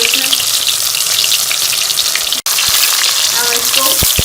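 Chicken koftas frying in hot oil, a loud continuous sizzle with close crackling and a few pops throughout, and a brief cut partway through.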